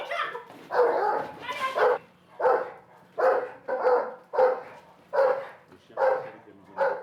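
Police dog barking close and loud in a rapid, regular series of about ten deep barks, each sharp and evenly spaced, with no other sound between them.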